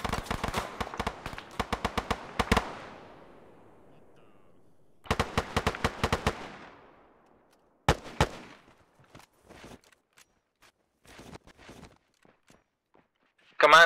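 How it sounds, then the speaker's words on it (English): A rocket lands close by during an Arma 3 Antistasi combat event, heard among sharp bursts of rapid gunfire and cracking impacts that come in clusters with quiet gaps, plus a sudden loud hit at the very end. "some kind of rocket just landed close-ish to us"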